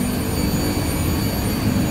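A water pump runs at an old well at Lawang Sewu in Semarang, a steady loud broadband rushing hum with no breaks, heard alone.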